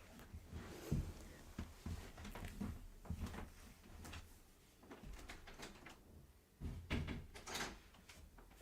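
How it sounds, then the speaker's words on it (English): A door is shut in a quiet room: soft knocks, thuds and shuffling movement come in scattered, faint bursts with no voice. "I'm going to go shut the door."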